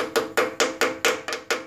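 Small hammer tapping a Woodruff key into a pulley on a 1966 Wheel Horse 1056 garden tractor, eight sharp metallic taps in a steady quick rhythm, close and loud with no speech.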